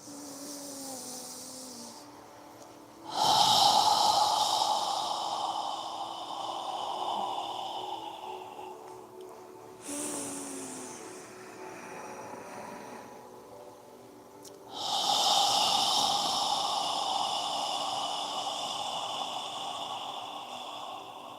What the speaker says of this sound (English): exhale through your mouth as you lower your arms and hands down